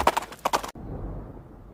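A horse whinnies in two short, bright, pulsing bursts, then the sound cuts off abruptly into quiet background hiss.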